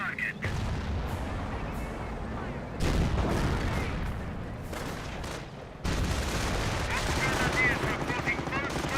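Artillery firing in the World War II strategy game Company of Heroes, a sustained barrage of booming shots and crackling gunfire layered over a continuous battle din, with a voice talking over it.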